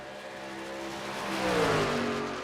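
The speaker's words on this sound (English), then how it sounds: "look at those two trucks on the outside. Bump drafting at Homestead" Racing trucks in a Truck Series championship race at Homestead run nose to tail, their engines a loud, continuous roar that climbs in pitch and swells as they pass close by.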